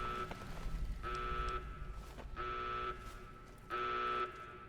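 An alarm buzzes in the Fallout New Vegas video game, sounding in three sustained, even bursts of roughly half a second each, separated by short gaps over a low background rumble.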